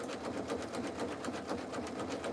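A sewing machine stitching a jelly roll fabric rug runs continuously at a slow, steady pace, its rhythmic needle clatter close and moderately loud with no talking.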